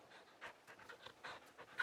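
Torgal, the dog companion in Final Fantasy XVI, pants in quick, soft, breathy bursts that repeat in an uneven rhythm, faint and close with no talk over them.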